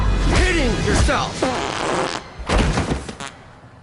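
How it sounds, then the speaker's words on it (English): A comic fart sound effect, a loud close blurting rasp amid energetic voices talking over it, with a rustling burst near the end. "Who farted?"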